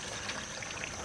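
A garden waterfall trickles steadily, with water splashing in a soft, continuous wash that stays even and fairly quiet throughout, and no voices.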